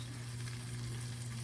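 Eggs frying in a pan on a home stove, a steady close sizzle with faint crackle running continuously over a low hum, no talking.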